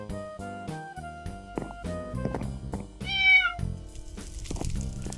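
A tamed cat in Minecraft with the Mo' Creatures mod meows repeatedly, a string of short, clear, tonal game-sound meows in uneven rhythm, loud and close with no talking.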